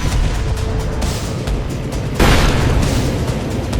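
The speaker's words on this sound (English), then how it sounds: "It meant they had reached the target's primary defense ring, the flak batteries. German 88mm guns were notoriously accurate." Low rumbling booms of German 88mm anti-aircraft flak fill the sky, with a sharp, heavy burst near the end that swells into a roaring wash.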